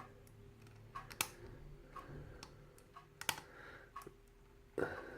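Small metallic clicks from a lock pick working the pins of a lock, scattered irregular taps with a few sharper snaps, close and fairly quiet over a faint hum.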